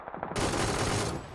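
A sudden burst of rapid automatic gunfire in a third-person PUBG competitive scrim breaks in after a quiet moment and keeps firing loudly and densely for about a second.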